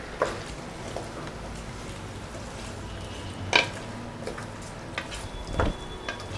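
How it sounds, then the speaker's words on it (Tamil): Masala is stirred into chicken in a pot for Dindigul biryani, a steady sizzle with soft scraping and a few clinks of the spoon against the pot. It runs evenly throughout with no talking. "இந்த மசாலாவை இப்போ சிக்கனில் ஊற்றிடலாம். நல்லா கலந்து விட்டுக்கலாம்."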